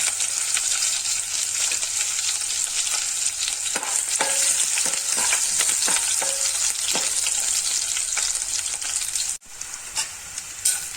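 Fenugreek seeds and crushed garlic frying in hot oil give a steady close sizzle with crackles and scattered pops, and the sound dips suddenly near the end.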